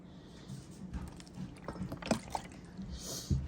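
Water added in small amounts to a dry stuffing mix in a bowl, with soft drips, wet squishes and a few sharper splashes and knocks, quiet and close.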